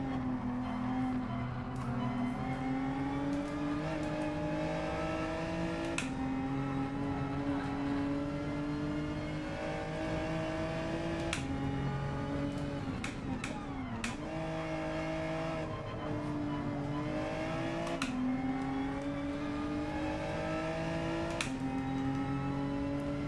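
A race car engine in the video game Gran Turismo 7 holds a steady high-pitched drone, climbing and dropping in pitch through gear shifts and throttle changes, loud and unbroken throughout.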